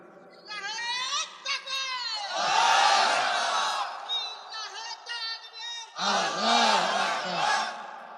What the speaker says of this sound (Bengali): দেন স্লোগান মারেন দেখি